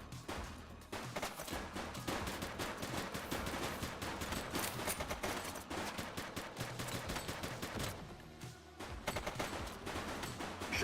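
Dense gunfire rattles in The Precinct, rapid overlapping shots and automatic bursts crackling continuously, a loud chaotic fusillade with no talking.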